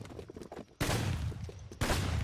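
Bursts of gunfire from a video game set in an American war, loud broadband blasts at about 0.8 s and 1.8 s, each followed by sustained rumbling noise, with quieter scattered clatter before the first shot.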